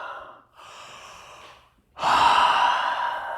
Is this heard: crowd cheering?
no